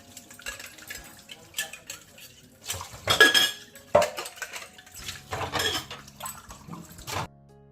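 Breakfast dishes and cutlery being washed in a home kitchen: steady clinks and clatters of spoons and plates with running water, close and busy, with brief bursts of louder rattling.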